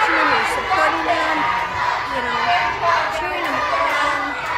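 Children at a Vacation Bible School watching game players and cheering them on, a steady noisy crowd of young voices chattering and calling out together.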